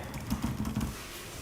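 Keys tapped on the overstroke keyboard of an ASUS TUF FX504 gaming laptop, a quick run of soft, close clicks for about a second before the keystrokes stop.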